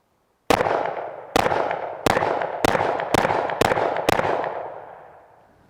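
Seven pistol shots of bulk ammunition fired at a range, each a sharp, loud crack with a ringing decay, spaced roughly half a second to a second apart, close and alone.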